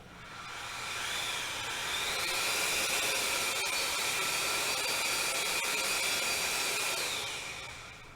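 A homogenizer mixer's propeller spins at low speed, giving a steady whirring motor hum with a whiny tone that swells up, holds for several seconds and eases off, close and even, no talking.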